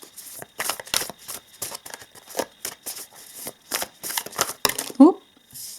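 Tarot cards being shuffled in repeated quick riffling bursts, close and fairly loud, with a brief soft voice sound near the end.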